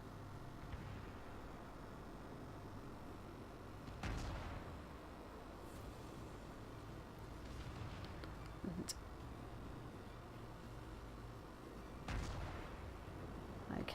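Distant naval gunfire in World of Warships, several sharp booming shots at intervals over a low steady rumble of ambient battle noise, with no talk.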